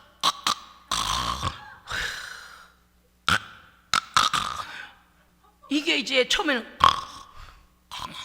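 A person imitates loud snoring with the voice, repeated rasping snorts and throaty breaths in bursts between short stretches of talk.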